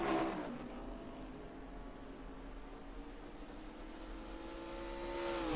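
Race cars at Portland in a racing video game, an engine droning steadily at high revs with pitch dipping early then climbing again near the end, loud and continuous with no talking.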